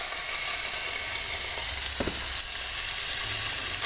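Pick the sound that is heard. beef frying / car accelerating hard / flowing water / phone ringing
beef frying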